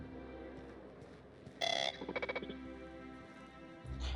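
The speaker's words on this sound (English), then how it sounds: "I thought an alarm just went off." An alarm going off in The Outer Worlds, the game's Halcyon setting, rising suddenly as a loud tonal blare with a rapid pulsing burst after steady background ambience, then fading back.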